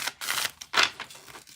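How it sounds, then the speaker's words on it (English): A deck of playing cards is shuffled up close, with quick riffling bursts of papery flutter and snapping, two main rustling passes in rapid succession. "let's get this shuffled and put back"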